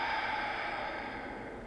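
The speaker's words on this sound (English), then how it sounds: "One more exhale." A single long audible exhale during a vinyasa yoga class, a steady airy breath out that fades gradually over nearly two seconds, with no talking.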